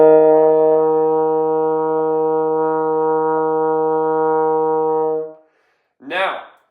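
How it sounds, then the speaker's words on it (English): A trombone holds a steady E flat in third position for about five seconds, a loud, even brass tone with a rich harmonic stack, followed by a brief spoken word. "Here's what it should sound like as an E flat."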